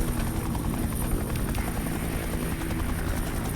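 Helicopter rotor chop from a chopper in the video game Duke Nukem: Manhattan Project, a steady dense thumping drone that holds at the same loudness throughout with no voices over it.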